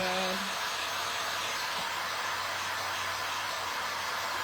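A hair dryer blows steadily to dry marker on a vintage picture frame, a loud, constant whooshing hiss close by for the whole stretch.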